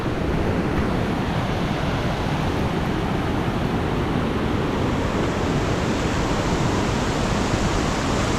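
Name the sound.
floodwater washing over an off-grid property's driveway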